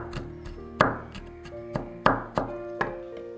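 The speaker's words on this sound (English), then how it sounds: "Garlic is next, absolutely essential. Yes, it takes a minute to mince, but it is totally worth it in my opinion." A knife minces garlic on a cutting board for a Vietnamese lemongrass chicken marinade, with around eight irregular, close thunking chops spaced apart.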